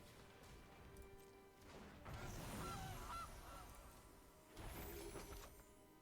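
Goose honks ring out from the Gilded Goose card in MTG Arena, a short cartoonish honking burst mixed with crashing game effects, with a second loud impact-heavy flurry near the end.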